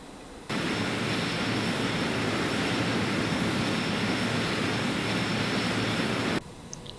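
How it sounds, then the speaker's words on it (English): Carenado Fokker 50 turboprop engines starting up in the Prepar3D flight simulator, a loud, steady broadband roar that switches on abruptly, holds for about six seconds, then cuts off. "Okay, clear to start engines."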